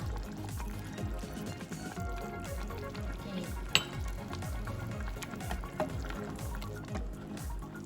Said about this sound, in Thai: ปรุงรสด้วยน้ำปลานะคะ